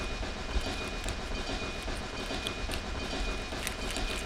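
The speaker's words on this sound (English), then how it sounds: "666 train to Sleepy Hollow. All aboard!" A train runs on rails with a continuous loud rumble and faint rhythmic clicking of wheels, steady and close throughout, no voices.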